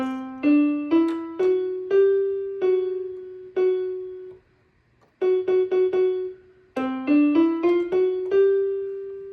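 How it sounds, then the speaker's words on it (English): Single piano notes on the F sharp black key are struck repeatedly in a slow, steady pattern, a few at a time with a short pause between groups, clear and alone. "Then we're gonna learn our first black key, which is F sharp."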